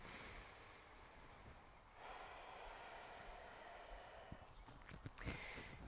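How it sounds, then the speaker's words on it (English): Slow audible breaths during a yoga twist, a soft oceanic rushing exhale that swells and fades, followed by a few quieter sniffing inhales, close and alone. "Use your Ujjayi breath."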